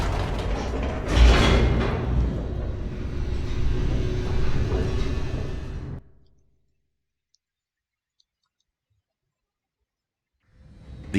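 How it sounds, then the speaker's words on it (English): In The Stanley Parable, an elevator rumbles and rattles downward with a loud, continuous mechanical roar and grinding, then cuts to near silence before the noise resumes at the very end. "The elevator raced downward, plummeting towards an unknown fate."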